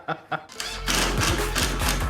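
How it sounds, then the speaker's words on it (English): Rapid typewriter-style keystrokes clatter continuously after a couple of short vocal sounds at the start, a dense, close run of clicks and taps filling the moment in a workspace. "Just sit here, typing away."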